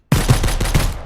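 Rapid bursts of gunfire from hostile survivors in the survival video game Mist Survival, loud and close, several sharp shots in quick succession with no voices over them.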